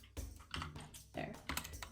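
Rapid clacking of keys on a computer keyboard, a few quick bursts of keystrokes with short pauses between them, close and fairly soft.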